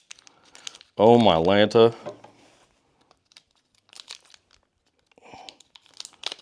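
Black-and-white photographic film being cut and handled, with faint scattered crinkling, crackling and snipping sounds coming after a short burst of speech and continuing at low level.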